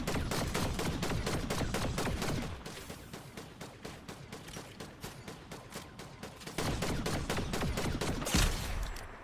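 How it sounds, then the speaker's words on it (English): Rapid gunfire from the Fortnite battle royale game, including sniper rifle shots, crackles in dense repeated bursts, a fast rattling volley that dips briefly then resumes loud, with a heavier thump near the end. "look at that sniper headshot from Proud"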